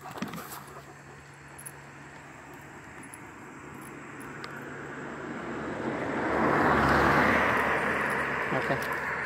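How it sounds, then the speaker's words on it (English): A car drives past on a road where traffic moves fast, its broadband rush swelling from a low hum to a loud, close pass over the last few seconds, with a dog nearby. "I got a vehicle coming"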